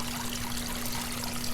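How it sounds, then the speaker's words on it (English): Water pours from a pipe into an aquaponics tote and drains down through a gap in the bricks at the bottom, making a steady, even trickle and rush with no voices. "the water is actually going down"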